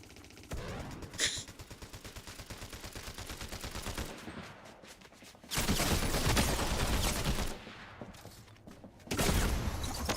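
Fortnite gunfire in dense, rapid bursts, loud sustained volleys broken by brief lulls, then heavier fusillades returning, with no voices over the shooting.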